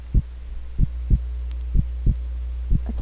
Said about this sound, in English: Felt my heart beating.